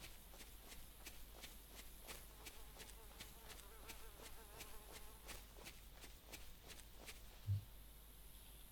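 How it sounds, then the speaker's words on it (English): Insect-like buzzing drifts past faintly in the DayZ game world, a thin fly drone over soft shuffling footsteps and low ambient noise, with a faint muffled thump near the end. "I just heard a fly buzz past me"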